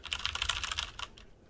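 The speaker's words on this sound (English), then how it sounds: "I'm gonna start typing." Rapid clicking keystrokes on a computer keyboard while typing in Vim, a close, quick burst of taps that slows and trails off into quiet.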